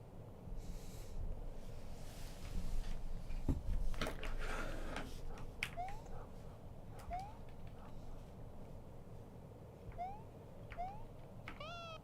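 Several short rising meows from a cat in a horror video game, spread across the stretch amid low ambient rumble and scattered clicks and thuds.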